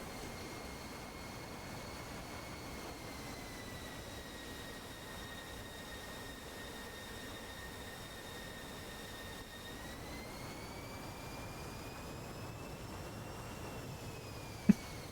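A MiG fighter jet in a video game dogfight gives a steady, sustained engine roar with a whining tone that holds level, then rises in pitch partway through, continuous throughout with no talk.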